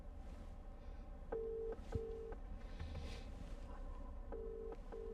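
Outgoing call ringing through Apple CarPlay in a 2020 Porsche Macan S, a repeating steady electronic tone in short pulses over low cabin rumble, quiet and even.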